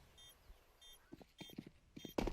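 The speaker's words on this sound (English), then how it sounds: "he hears the footsteps, knows that both players are here" Quick footsteps in Counter-Strike during a pro match at IEM Chengdu, a cluster of close, hard-soled steps that grows louder and more rapid toward the end, over a quiet faint background.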